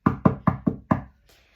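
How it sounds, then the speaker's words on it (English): Five firm, evenly spaced knocks on a door ring out close and loud, each with a short hollow decay, followed by a faint trailing rustle. "They all came to her house and knocked on the door."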